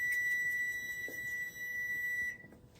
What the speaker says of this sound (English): My timer just went off.